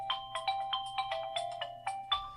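A phone rings in a steady repeating electronic pattern of short tonal bursts, about ten in quick succession, fairly loud and close, with no voices over it.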